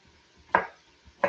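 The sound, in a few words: chopping garnet sweet potato, skin and all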